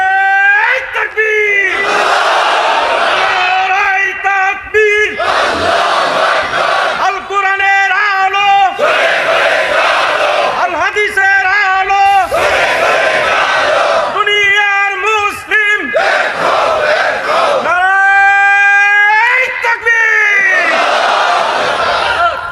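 Large gathering at an outdoor Islamic religious sermon shouting takbir in loud, repeated collective bursts, each chant swelling with strong voices and separated by brief pauses, continuing in waves for over twenty seconds.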